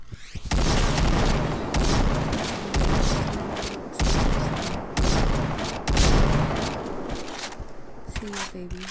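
Grenade explosions and rapid gunfire fill a Point Blank shooter game match, with heavy booms and dense, continuous bursts of shots that pound steadily for several seconds, loud and close, with voices faintly under the action.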